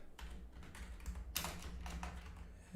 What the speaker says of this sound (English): I'm having trouble typing.